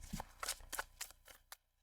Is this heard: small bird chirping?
no